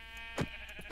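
A sheep in the Minecraft video game gives a single short bleat, faint and brief, over a quiet background hum.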